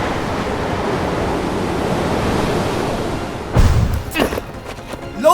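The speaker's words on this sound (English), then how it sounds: "She channels the gust of wind down through the heart of the flame, blasting it apart with the force of a hurricane" A cartoon gust of wind blasts a fire apart: a long roaring whoosh of wind with crackle underneath, then a sudden burst and scattered sharp bursts and hisses as the flame breaks up.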